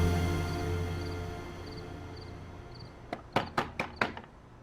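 A series of five sharp knocks on a closed door, clear and fairly close, coming in a quick uneven burst after a stretch of quiet room hiss.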